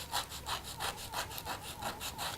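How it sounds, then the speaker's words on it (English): A wooden pencil tip is rubbed back and forth on very rough sandpaper in steady, rhythmic, scratchy strokes, about seven in quick succession, close up with no talk. "sand it on some very rough sandpaper"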